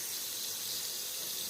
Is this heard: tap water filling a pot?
yes